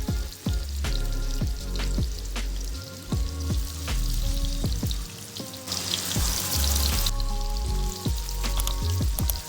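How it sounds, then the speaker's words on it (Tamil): Masala-marinated fish frying in oil in a pan, a steady loud sizzle with popping and crackling throughout and a brief stronger hiss partway through, with no voices. "அப்புறம் நம்ம மசாலா போட்டு வச்சுருந்த மீனெல்லாம் எண்ணெயில் ஆட் பண்ணிக்கலாம்."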